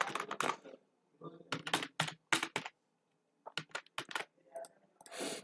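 Bursts of close computer keyboard typing while writing code, with clustered rapid key clicks separated by short pauses and brief talk between them.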